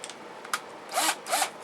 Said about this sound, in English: we're going to go ahead and do this with a drill because it's a lot faster